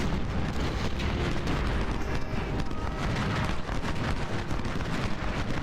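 Continuous booming artillery fire and explosions from the Ultimate General Civil War strategy game's South Mountain battle, a dense, loud barrage of overlapping blasts rumbling steadily throughout with no pauses.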